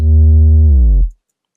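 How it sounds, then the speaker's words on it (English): A synthesized sub-bass note on D sharp holds steady, then its pitch bends smoothly down an octave before cutting off sharply, leaving silence; loud and clean, with no other sounds. "Drops down an octave, and I just think it's really cool."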